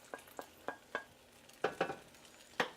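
Potatoes frying in an all-in-one pot for a breakfast scramble, with a series of short scraping stir strokes and faint sizzling, spaced irregularly and fairly close.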